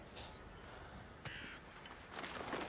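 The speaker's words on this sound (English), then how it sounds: "Oh, the birds give you away" Crows cawing in a brutal action video game, a few harsh, scratchy caws rising out of a low ambient hum, fairly distant and alone with no talk.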